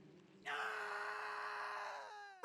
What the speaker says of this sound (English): Oh, God, Chris, what a scream.